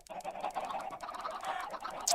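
Minecraft chickens in a chicken cooker farm cluck in a steady, busy stream of short calls at moderate distance, quiet and without talk.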